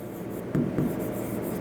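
Pen or marker strokes scratching on paper or a board during a Class 6 maths lesson on integers, two short firm strokes standing out over a steady soft rubbing background, close and moderately loud.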